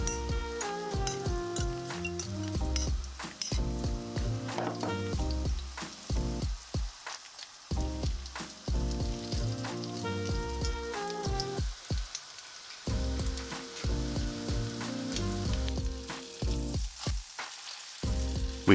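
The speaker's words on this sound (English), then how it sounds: "We sear it for roughly 5 minutes until it gets a nice golden brown color" Mini potato pizzas made from a potato mix sear in vegetable oil in a pan, with a continuous crackling sizzle laid under background music that drops out briefly a few times.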